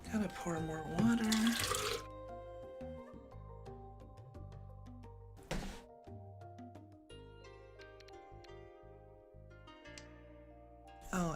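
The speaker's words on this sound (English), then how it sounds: "Gotta pour more water." Water pours in a short, loud gush at the start and then stops. Soft, tonal game chimes and clicks from Mahjong Soul ranked play continue afterward.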